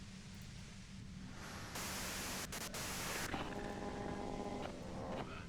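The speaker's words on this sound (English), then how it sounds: "you can do it through the white noise" Steady hissing white noise from the video game Disco Elysium, faint and continuous, shifting in brightness partway through with a brief thin tone near the end.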